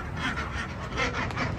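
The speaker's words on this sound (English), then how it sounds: "Runner duck." Runner ducks quacking on a tropical fruit tree nursery, a run of loud, close, overlapping quacks and honks with no talking.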